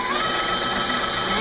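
An electric stand mixer runs slowly, whipping milk with a steady, loud motor whine and a high mechanical hum that holds unchanged throughout.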